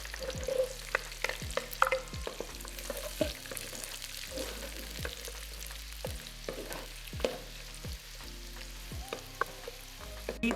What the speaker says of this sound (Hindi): तो ये मैंने जो प्याज अपने काट लिए थे, अभी मैं इनको डालती हूँ ब्राउन होने के लिए।